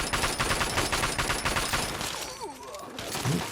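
Rapid gunfire from a raider sniper in Fallout 3, a dense loud fusillade of shots that thins out partway through. Brief voices and scattered sounds follow.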